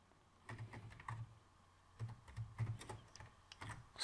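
Computer keyboard typing in short irregular bursts of clicking keystrokes, with pauses between runs, close and fairly quiet, while someone writes C code.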